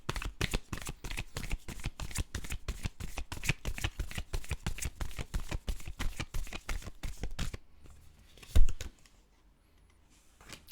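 Tarot cards shuffled in a long run of rapid, evenly spaced riffling flicks, close and crisp, then a pause, one sharp card slap or draw and near silence.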